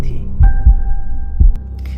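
A heartbeat effect in a tense, quiet setting: a few heavy low thumps in loose pairs, near and fairly loud over a steady hum, with no voice.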